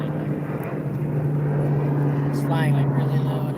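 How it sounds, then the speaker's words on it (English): A big, low-flying airplane drones steadily overhead, a loud continuous engine hum heard from out on the water by a kayaker, with voices talking over it. "This plane's really big."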